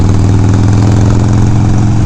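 A Harley-Davidson Sportster 1200 motorcycle engine running while being ridden, a loud, steady low rumble with even pulsing throughout, close and alone with no voices.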